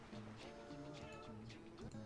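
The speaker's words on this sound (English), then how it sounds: "Of course, now you meow." A cat meows close by, a short plaintive call with harmonic tones, heard over the steady background sound of a Crash Bandicoot 2 game.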